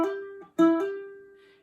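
A ukulele's E string is plucked open, then plucked again and hammered on at the third fret so the pitch steps up. The clear, bright notes ring close and alone before slowly fading.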